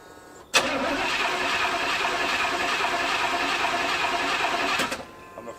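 An old project truck's engine cranks steadily for about four seconds without catching, a loud, continuous mechanical churn that stops abruptly.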